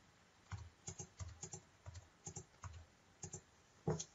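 Values are typed quickly on a computer keyboard, with a close, uneven patter of light key clicks at a steady working pace.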